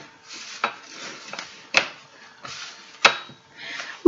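Hands pressing and mixing scone dough in a kitchen make soft, close rubbing and squishing sounds, broken by several sharp knocks against the bowl or counter.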